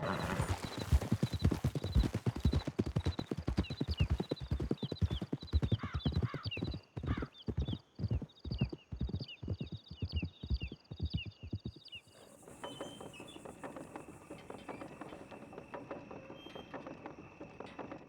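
Several horses gallop hard in Red Dead Redemption 2, with fast, loud hoofbeats drumming for about twelve seconds, an occasional whinny, then a sudden cut to quieter outdoor ambience with insects.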